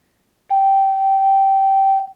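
A single sustained G note played on an STL ocarina, a pure whistle-like tone held steadily for about one and a half seconds, then released cleanly, alone and close.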